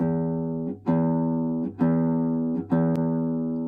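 Three low notes plucked with the nail on a classical guitar's E string, each ringing out with a bright, slightly twangy attack and sustained tone, spaced about a second apart.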